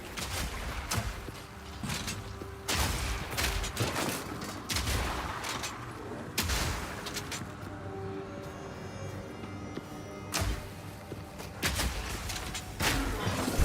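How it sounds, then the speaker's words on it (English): Repeated grenade blasts and impacts in the action game Path of Exile, a rapid series of loud booming thumps at irregular intervals over dense combat noise, with no speech. "I do love longballing stuff with grenades, though"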